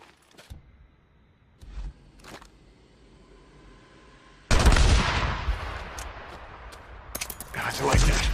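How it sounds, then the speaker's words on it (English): Gunfire in a zombie video game, sharp isolated shots early on, then a loud burst of rapid firing with echoing crackle that trails off and returns near the end, with no talk over it. "I heard gunshots"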